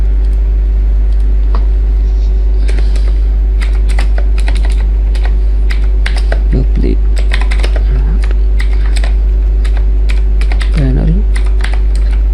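Quick irregular key clicks from code being typed on a computer keyboard, close and crisp, run over a loud steady low electrical hum while someone talks in Hindi.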